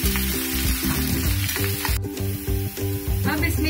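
Finely chopped ginger and garlic fry in hot oil with a loud, steady sizzle, stirred now and then with a utensil clattering against the pan, and no voices.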